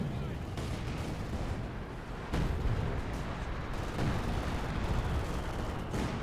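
On-map artillery barrages in the real-time strategy game Company of Heroes 2 rumble as dense, continuous low booms and gunfire, with several heavier impacts landing amid the steady battle din.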